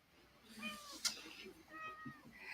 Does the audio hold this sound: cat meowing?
yes